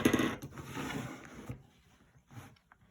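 Scissors trim fleece close to the stitches on a handmade stuffed bear, a run of soft crunching snips, denser at first and then spaced out into a few quiet separate cuts, close up and with no talk.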